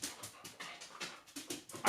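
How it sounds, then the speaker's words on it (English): An excited pet dog pants rapidly in quick rhythmic breaths, mixed with small whimpers and a sharper yelp at the end, close by and soft, with no one talking. "Please bear with my dog."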